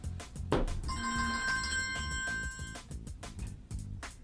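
A phone rings with a bright electronic bell tone lasting a couple of seconds, ringing over a steady background of music or noise.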